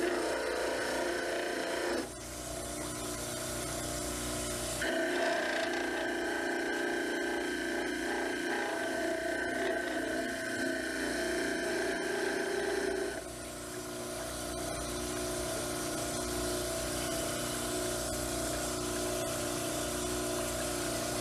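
A dental model trimmer grinds steadily against a stone cast, with a continuous rasping whir whose pitch and load shift as the cast is pressed to the wheel, running alone throughout.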